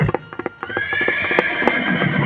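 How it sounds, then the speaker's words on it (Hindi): A horse gives a loud, drawn-out neigh right after a few quick hoof clops, the whinny wavering and trailing off over about two seconds. "घोड़ा आवाज भी दे रहा है।"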